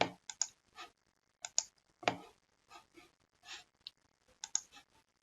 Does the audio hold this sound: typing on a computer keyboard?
yes